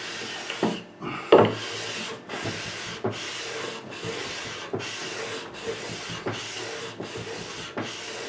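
Rhythmic rasping strokes of abrasive rubbed along a rosewood fingerboard on a 1983 Kramer Focus 3000 guitar, shaping it to an even radius; steady back-and-forth passes, close and fairly quiet.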